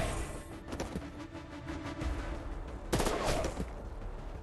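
Gunfire in an XCOM-style tactics game: a fairly quiet, dense stretch of rattling shots runs throughout, with a sharper burst near the end, all over a busy background and without speech.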